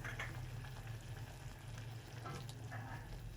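Homemade pizza sauce with red chili bubbles and sizzles in a pan, a faint, steady simmering texture with small popping bursts and no talk.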